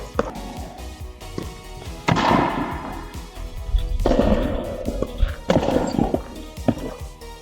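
A pickleball paddle strikes the ball during play at the court while a player moves forward, several sharp hollow pops at irregular intervals amid scuffing footsteps and ambient court noise.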